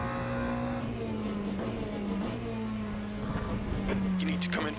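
McLaren race car at Sebring in the Le Mans Ultimate sim, steady high engine drone with brief shift dips, continuous and prominent, with faint clicks and speech-like sounds underneath.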